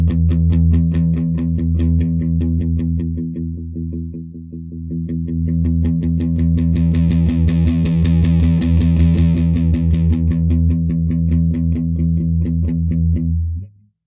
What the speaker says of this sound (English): I'm going to start with drive. I'm just going to sweep the knob, play the open low E string,